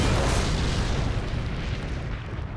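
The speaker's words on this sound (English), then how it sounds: "the tank would blow up" A tank blows up on a battlefield with a heavy, booming roar that starts loud and then slowly rolls and rumbles away, with no voices over it.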